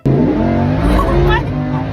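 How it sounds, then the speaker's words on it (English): Orange Lamborghini Huracan driven hard through Sydney streets, its loud engine roaring steadily close by for two seconds with a rising rev in the middle, voices faintly mixed in. "we decided to enjoy the car for what it was and thrash it around the streets of Sydney"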